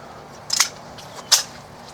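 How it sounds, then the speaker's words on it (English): Two sharp, fairly muted cracks from an IMI pistol being fired at a shooting range, spaced under a second apart against a quiet background. "First time shooting an actual legit IMI."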